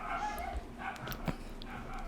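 A dog barks and yelps several times at a moderate distance, its shrill cries rising above a busy background mixed with other sounds.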